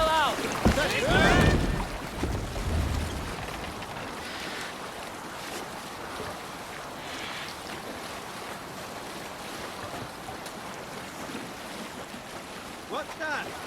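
A boat sails out on open water in a video game, with a brief louder splash and rush at the start that settles into steady wind and lapping waves.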